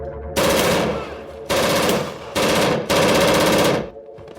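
Rapid machine gun bursts in a gangland shooting, four loud sustained volleys of automatic fire with short gaps between them, each one cutting off sharply.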